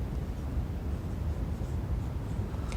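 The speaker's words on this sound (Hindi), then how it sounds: "यहाँ पे लिखते हैं" A marker or chalk scratches on a board while a Class 10 physics problem on plane mirror height is worked out, a soft continuous writing sound with low room rumble and no talk.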